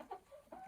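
A few soft, brief clucks from chickens on a small farm where a young rooster is among the birds, faint and close together.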